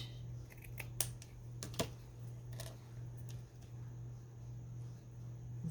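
Scissors snipping through fabric and lace for a paperclip bookmark: a few short, quiet crisp cuts close by, scattered irregularly over a steady low hum.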